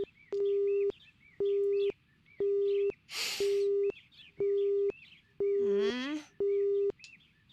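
A video-game phone busy signal: a steady electronic tone beeping in regular on-off pulses, loud and clear, with a brief noisy burst and a rising chirp cutting in partway through.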